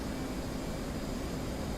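Steady broadband roar of an F-18 jet engine in the DCS flight simulator, a constant loud rushing drone with no break and no voices.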